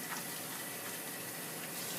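Water squeezed from a wet tie-dyed shirt pours and splashes into a filling sink, a steady close trickling gush with no talk.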